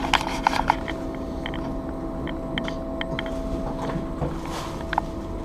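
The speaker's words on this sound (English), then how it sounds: "That blower motor is going to need to be replaced." A blower motor with a bad bearing hums steadily with a constant tonal whine, broken by faint irregular ticks and rattles, close and continuous without talk.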